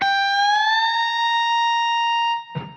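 Electric guitar note on the 15th fret bent up a step and a half in a blues solo, heard as a short note, then a loud sustained tone gliding upward and holding steady before cutting off, with a brief pluck near the end.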